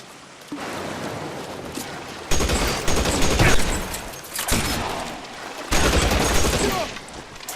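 Gunfire in the PS4 game L.A. Noire during an arson case shootout: dense bursts of rapid shots in three loud volleys separated by brief lulls, with a steady background din between them.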